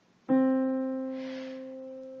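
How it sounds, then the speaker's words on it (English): A single sustained piano-like middle C note struck once, ringing clearly and slowly decaying, with no other sounds. "the first note that you sort of get in the treble clef is middle C"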